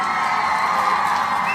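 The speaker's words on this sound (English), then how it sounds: "we want to give a round of applause to all of our Nia babies" A crowd cheers and applauds at a toast celebration, with dense whoops, shouting and clapping that stay loud and steady throughout the short burst.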